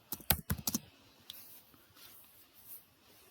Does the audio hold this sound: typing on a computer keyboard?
yes